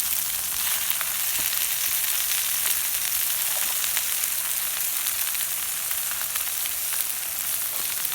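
Butter and mushrooms sizzling on a STOK drum grill, a loud, continuous, close crackling hiss with small pops and no voices.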